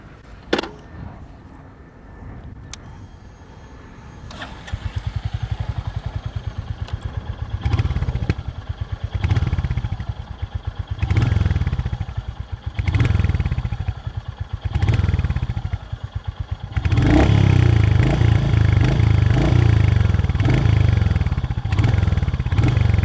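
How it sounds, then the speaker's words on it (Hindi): A Royal Enfield Hunter 350 motorcycle starts up with a few clicks, then settles into a thumping single-cylinder idle broken by repeated throttle blips, ending in a louder sustained rev, close and without talk. "आप रॉयल एनफील्ड के साउंड को बिल्कुल भी मिस नहीं करेंगे।"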